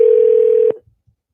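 A phone call's ringing tone on the line, one steady unbroken pitch held loud for under a second before it cuts off abruptly, followed by a couple of faint soft knocks and then silence.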